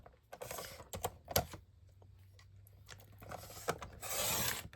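Scissors or a craft trimmer cutting a paper pineapple cut-out for a scrapbook layout, giving close, dry rasping snips and rustling paper in quiet, irregular bursts.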